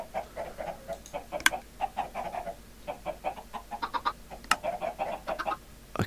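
Many chickens cluck steadily in a Minecraft automatic chicken farm, with a dense run of short, close clucks and a few sharp clicks, and no voices.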